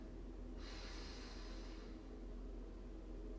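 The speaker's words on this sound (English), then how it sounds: "Deep breath in" One slow, deep breath drawn in through the nose, a soft hissing inhale that starts after a brief pause and fades out after about a second and a half, faint against a steady low background hum.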